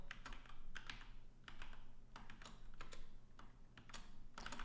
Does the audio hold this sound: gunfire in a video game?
no